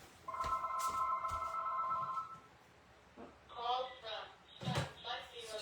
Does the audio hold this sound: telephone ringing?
yes